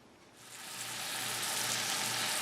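Ground beef, 80% lean, sizzling in a hot pan, a steady loud hiss that swells in within the first half second and holds evenly throughout.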